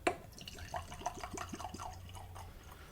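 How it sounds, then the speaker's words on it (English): Bas-Armagnac poured into tasting glasses gives a quiet, close trickle and a string of small liquid plops and drips over a few seconds, with no voices. "Let me finish pouring these."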